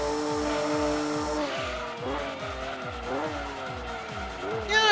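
A Porsche race car in Gran Turismo 2 during a Grand Valley endurance race, with a loud, steady engine whine shifting pitch through the gears and tire squeal, plus a rhythmic pulsing tone running underneath.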